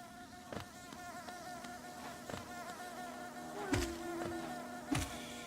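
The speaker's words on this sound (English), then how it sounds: "These bees can be annoying" Insect-like buzzing from the bees in the Hollow Knight video game, a steady drone under the game's music with a few sharp hits and thumps.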